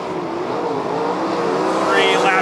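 Race cars battling wheel to wheel on the dirt oval at Lernerville Speedway: a steady, loud engine roar that swells toward the end as cars accelerate off a turn, with a commentator talking over it.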